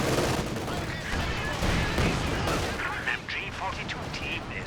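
A walking Stuka barrage pounds the field in Company of Heroes 2 during a 2v2 match, a dense, continuous roar of overlapping blasts and gunfire at high volume.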